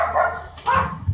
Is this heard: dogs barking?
yes